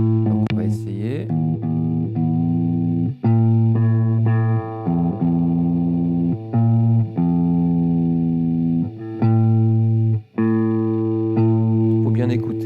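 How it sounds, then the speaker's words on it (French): Open guitar strings plucked one after another to tune by ear, the fifth fret of the thicker string matched in unison against the open string below, several sustained ringing notes following each other with brief gaps. "d'utiliser la 5e case de la grosse corde pour la faire sonner comme le La en dessous"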